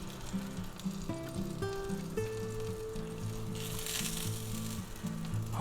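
Sausage, eggs, hot peppers and onions sizzling steadily in a hot pan, a soft continuous crackle with faint tonal hums and clicks from the kitchen underneath, no talking.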